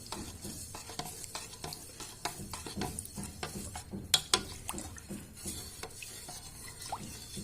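Flour and water being stirred together for a jelly sweet, a steady run of soft wet stirring strokes and scrapes close up, with a couple of sharper clinks near the middle and no talking.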